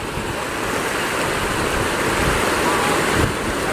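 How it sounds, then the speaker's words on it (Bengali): A rain-swollen river floods past a broken ferry ghat, its rushing water a loud, unbroken roar filling the whole stretch, steady and close with no pause. "মানে প্রতি সেকেন্ডে কয়েক হাজার কিউসেক জল যাচ্ছে এখান থেকে"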